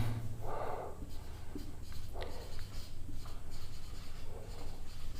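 Pen writing on a surface during a Class 9 physics lesson on motion, giving soft scratchy strokes in short bursts, faint and close, with a steady low hum underneath.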